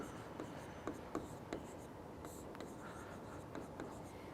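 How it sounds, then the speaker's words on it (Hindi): Notes being handwritten on paper, with soft scratchy pen strokes and small taps repeating steadily, quiet and close. "यहाँ इनके बारे में थोड़ी सी जानकारी लिख देता हूँ।"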